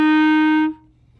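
A single clarinet note F, fingered with the thumb key alone, sustained loud and steady for about two-thirds of a second before cutting off cleanly into quiet room tone.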